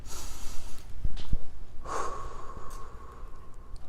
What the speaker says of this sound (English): Just take a few deep breaths